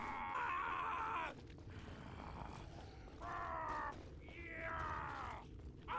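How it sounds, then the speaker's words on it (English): Ambient screaming in the game Morbid: The Lords of Ire: a man's strained, drawn-out howls and groans recur in several long bursts over a constant low rumbling bed, moderately distant and echoing. "That dude screaming seriously going to be the ambience for this?"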